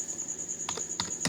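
A few crisp taps on a computer keyboard, including the Enter key, three close clicks spaced irregularly over a steady high-pitched electronic whine.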